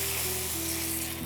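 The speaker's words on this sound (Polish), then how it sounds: "mieszamy i wlewamy bulion" Beef broth hits a hot pan of paprika and tomato paste, giving a steady, loud, close hiss of sizzling liquid with no talk over it.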